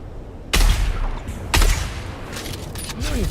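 Gunfire in the video game Dune Awakening: two loud, sharp shots about a second apart, each with a booming low thud, followed by quieter mechanical clicks and a small chirping sound in the game scene.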